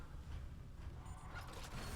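A mechanical door opens in the Dead Space Remake video game with a faint creaking, grinding mechanism that runs throughout, quiet and low, with no talk.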